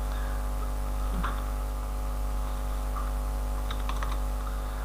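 Keys on a computer keyboard are typed in a few soft, scattered clicks over a steady electrical hum, with no voices.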